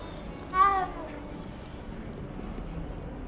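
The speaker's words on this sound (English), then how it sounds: "Yep, we're gonna pet the cats." A single short meow from a cat in the Hogwarts Legacy video game, clear and fairly close, over low game ambience.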